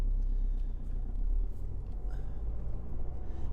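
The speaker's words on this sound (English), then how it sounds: "Let's go and give it a drive." A BMW 3 Series is driven along, its interior filled with a steady low engine and road rumble that swells slightly at times, with no talking.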